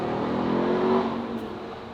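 A car passes on a nearby road beside a tree-stand hunting spot, a steady broadband rush of tyre and engine noise that swells slightly and then eases off, with no one speaking.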